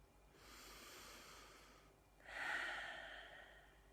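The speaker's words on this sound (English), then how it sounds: "And take another deep breath." A slow, deep breath heard close up and quietly: a soft inhale followed after a brief pause by a longer, stronger breathy exhale, with no talking.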